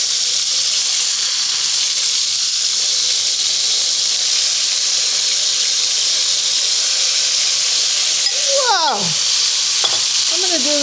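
High-heat oil sizzling in a hot wok as chicken is stir-fried, giving a loud, steady hiss throughout with a few brief scraping, squealing stirs near the end.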